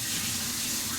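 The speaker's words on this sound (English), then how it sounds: "Let me just rinse this off too." Water gushing steadily from a kitchen tap while baking dishes are rinsed, a loud continuous hiss with no talk.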